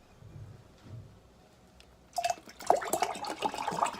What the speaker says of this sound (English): Why is he pouring more of it out?